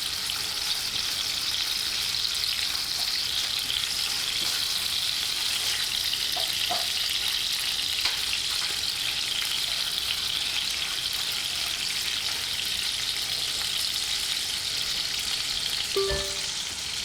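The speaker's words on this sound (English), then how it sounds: "Okay, stirring the ingredients." Ingredients fry in a pan over raised heat with a dense, continuous sizzle, loud and close, while a brief clink near the end marks the stirring. Nobody speaks.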